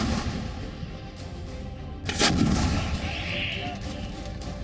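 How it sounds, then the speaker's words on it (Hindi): Rockets and artillery fired at the Lebanon border, one heavy booming blast rolling out over steady rumbling background noise, fairly distant, with no talking. "लेबनान बॉर्डर पर हिजबुल्लाह के आतंकी और इजरायली सेना के बीच रॉकेट्स दागे जा रहे हैं।"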